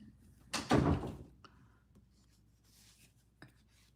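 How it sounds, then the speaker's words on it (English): A door swings shut with one solid, fairly close thud, followed by a few faint knocks and rustles in a quiet room. "close the door, please"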